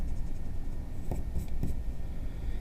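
Marks on a hand-drawn graph being erased: a few short scrubbing rubs bunched together midway, set against a low steady room hum, with no voices.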